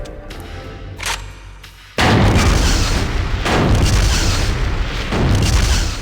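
Repeated heavy gunshots from a video game character shooting at lockers in Killer7, loud booming blasts that start abruptly and roll on with dense rumbling echoes.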